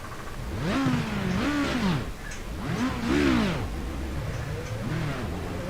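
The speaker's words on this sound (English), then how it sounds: "Got to start my engine." A race car engine starting up during night practice at Le Mans, revving close by in repeated rising and falling sweeps that settle into a steady idle-like drone.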